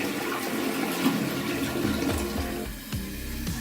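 A repaired, previously weak-flushing toilet flushes with a strong, loud rush of water and gurgling swirl, then shifts to a refill hiss toward the end, heard close and alone.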